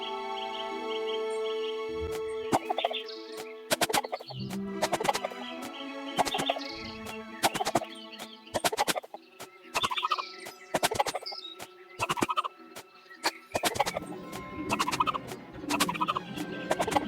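A chicken clucks in the Lost Lands X video game: repeated choppy clucks and gobbling calls in uneven bursts, loud and close, over bright game music. No one speaks.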